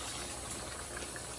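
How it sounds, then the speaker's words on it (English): Water pours into simmering beef stew in a Dutch oven, a steady bubbling, hissing rush of liquid that holds level throughout and ends in a brief thump. "Let's add a little water."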